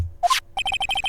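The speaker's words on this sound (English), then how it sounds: "We're going to call my cell phone now." A cell phone in the Phoenix Wright: Ace Attorney – Justice for All video game rings with a rapid series of bright, evenly spaced electronic beeps after a short chime, loud and close, with no talk.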